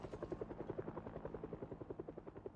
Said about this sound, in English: That helicopter is going to be the death of me.